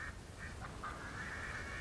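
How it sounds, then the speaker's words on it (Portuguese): Several faint, soft quacks from little ducklings in World of Warcraft come in short bursts over a low background hum. "Vamos salvar os patinhos agora."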